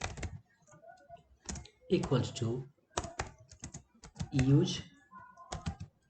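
Computer keyboard keys tapped in quick bursts while writing code, the clicks close and clear, interleaved with someone talking over them.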